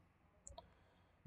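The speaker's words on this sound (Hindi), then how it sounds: "तो अगर हम इस पर क्लिक करते हैं" Two quick, faint mouse clicks sound in a quiet room as POS software is operated, followed by a short low thump at the very end.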